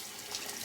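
Water runs steadily into the outer chamber of a shaving brush scuttle, a soft continuous splashing flow heard close with no talking.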